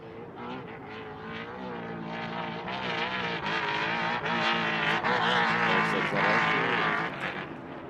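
An unlimited off-road racing truck roars past during qualifying, a loud sustained engine note that swells as it nears and holds strong before easing slightly as it moves away, with no talk over it.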